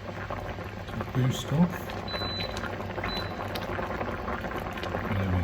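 Chicken casserole sauce bubbling in a pot as it cooks and reduces, a steady close simmering gurgle with a few louder pops, under brief speech.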